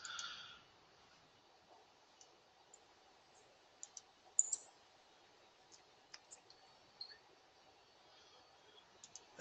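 Sharp, faint mouse clicks from a computer in a quiet office, scattered singly and in small pairs at an irregular pace, close and dry against a low background hum.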